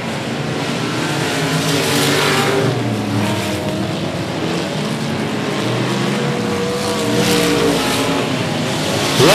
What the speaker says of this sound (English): In turns 3 and 4, 2 cars going to go around.